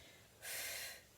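One sharp breath drawn in during a bridge exercise in an abs workout with a loop band, a single quick close inhale lasting about half a second, otherwise quiet.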